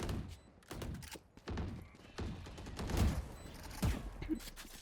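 Bursts of gunfire in Valorant, shots fired through walls, come in quick, uneven clusters of sharp cracks and thuds with short gaps between volleys.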